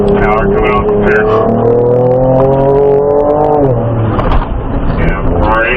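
A Ford Ranger Raptor's engine roars loudly as the truck powers out of a turn on an off-road driving course. The engine note holds steady, then dips and climbs again, close and dominant throughout.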